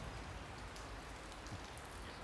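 Steady, dense rain falling around a 2008 Cadillac Escalade ESV, a continuous close hiss with no breaks.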